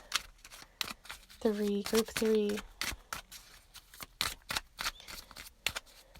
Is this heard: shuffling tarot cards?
yes